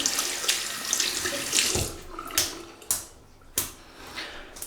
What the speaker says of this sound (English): We'll wet the brush.